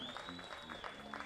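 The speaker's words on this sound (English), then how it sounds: "And you got the crowd going now." Football crowd at a Conneaut Spartans vs Buckeye Bucks high school game cheering continuously in a broad wash of noise, with a steady whistle-like tone above it and an announcer's voice running underneath.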